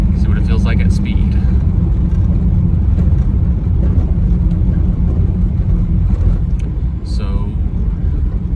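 A 1979 Datsun 280ZX cruising at highway speed, its steady engine drone and road and wind roar filling the cabin continuously with no break.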